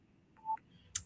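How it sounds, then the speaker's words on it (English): A phone message notification sounds twice, a short soft electronic tone followed by a sharper high chirp, close by and brief in an otherwise quiet moment. "sorry, I've got a phone message coming through on here."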